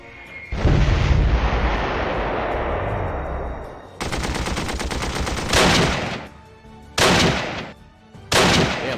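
Dive bombers strike in a Panzer Corps 2 battle: a loud burst of rapid machine-gun fire and heavy blasts, followed by several separate rattling salvos and booming bursts with short gaps between them, no voices.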